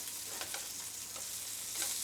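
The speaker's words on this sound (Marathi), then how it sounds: "बारीक गॅसवर एकदम खरपूस भाजून घेणार आहे" Surmai fish fillets in green masala fry in oil on a low flame, giving a steady, close sizzle with soft crackling bursts throughout, no voices.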